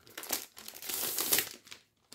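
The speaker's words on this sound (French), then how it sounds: "on va commencer par enlever le papier" Paper wrapping crinkles and tears as it is peeled off a Lego Ninjago book, close and fairly loud, a run of rustling bursts that ends in near silence.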